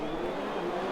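Race cars in a racing video game accelerate off the starting grid together at the Red Bull Ring in Austria, a loud, dense, continuous roar of many engines revving at once with no gaps.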